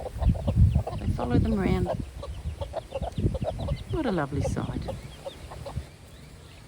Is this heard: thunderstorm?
no